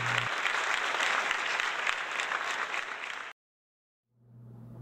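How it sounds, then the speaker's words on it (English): Audience applause greets a contestant's introduction at a game-show event, a dense burst of clapping lasting about three seconds that cuts off abruptly, followed by silence and then a low steady hum. "welcome him with an applause"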